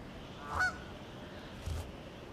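A lone goose out on an icy wilderness landscape, away from its flock, gives one faint honk followed by a softer second call, distant against a steady background hiss.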